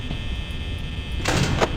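A door shuts in Five Nights at Freddy's, heard as a quick mechanical slide and clunk toward the end, fairly quiet over a steady electronic hum with no talk.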